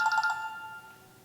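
A telephone ringtone of rapid electronic trills gives a short bright burst and then fades away, heard alone with no talk.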